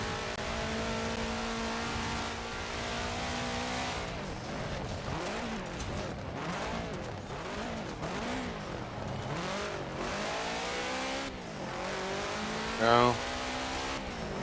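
A rally car engine in a racing game revs high and accelerates steadily, its pitch sweeping up and down through gear changes, loud and continuous, with a brief spoken word near the end.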